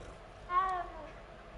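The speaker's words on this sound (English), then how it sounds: "Oh, there's a cat." A cat in the Hogwarts Legacy video game gives one short, clear meow over quiet game ambience.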